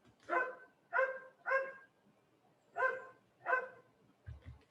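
A single dog barks in a slightly distant room, five evenly spaced sharp barks with short pauses, moderately loud against an otherwise quiet background.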